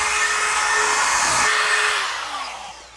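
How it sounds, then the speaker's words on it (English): A regular cordless power drill drives a screw into drywall in a corner, a loud close whirring spin that holds steady then winds down as the screw seats, with no talking. "it's easier using one of these regular drills in the corners"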